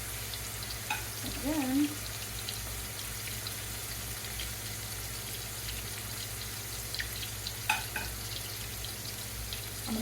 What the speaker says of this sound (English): I'm putting seasoned fries down into the butter